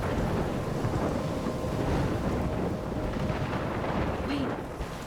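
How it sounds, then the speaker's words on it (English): A heavy thunderstorm in the video game Life is Strange rumbles with deep rolling thunder over dense, steady rain, loud and continuous throughout before easing slightly at the end. "I'm trapped in a storm?"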